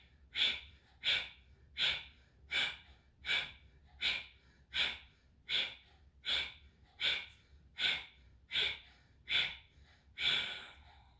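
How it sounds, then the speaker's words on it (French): Forceful exhalations during a breathing exercise, about thirteen sharp breaths pushed out at a steady rhythm of roughly one every 0.8 seconds, close and clear with no talking, the final breath a little longer. "expulsez vraiment, expirez très très longuement"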